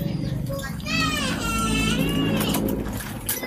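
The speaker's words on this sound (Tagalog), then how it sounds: "Ingay ng mga bata dito." Children play and shout nearby on a street during a bike ride, their high excited voices rising over steady traffic-like background noise, with a few cries standing out in the middle.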